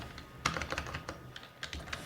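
A computer keyboard is tapped in quick, irregular keystrokes while a C++ formula is typed, close and fairly quiet, with no voices.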